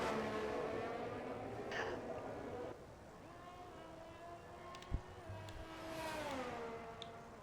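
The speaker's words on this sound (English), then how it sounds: "First man out of the garage is going to be the Ferrari of RSF1 Shane." Engine of a Ferrari race car in a racing video game as it pulls out of the garage, a steady revving tone that rises and falls under ongoing commentary, with one brief sharp click partway through.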